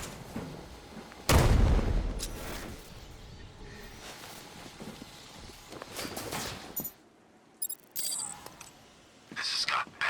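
Gunfire in Batman: Arkham Knight, one loud close burst early on, followed by scattered quieter shots and distant booms. Voices talk throughout the scene.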